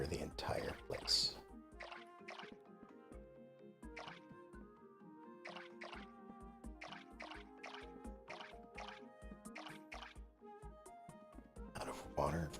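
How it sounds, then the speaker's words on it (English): A watering can pours over crops in the Core Keeper video game, a series of short splashy drips and liquid bursts repeating in an irregular rhythm, fairly close and clear, with a voice speaking over it. "And we will water the entire place."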